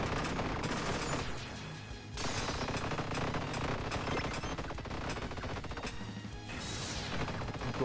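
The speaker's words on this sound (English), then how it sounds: "That is so much fast firing, dude." Fast, relentless projectile fire in a Touhou roguelike video game, loud rapid volleys with crashing impacts, briefly dipping near the two-second mark and again toward the end.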